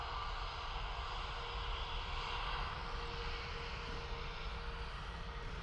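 An Airbus XLR airliner at Dublin Airport roars steadily with a loud, continuous engine drone and broad rushing noise, no voices heard.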